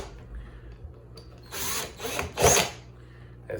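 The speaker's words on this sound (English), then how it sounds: "And I turn my drill down a little bit" A power drill, turned down to a lower setting, drives screws into a Franklin end table nightstand during assembly, whirring in two short bursts over a low background hum, the second burst louder.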